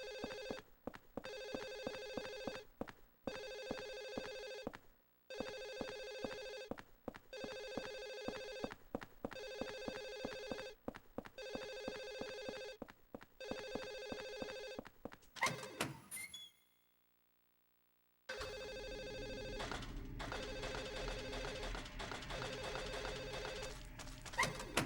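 Telephone ringing in a room in the video game Silent Hill 4, a steady series of loud, close ring bursts with short gaps. The ringing cuts off into silence, then a dense ambient game noise follows.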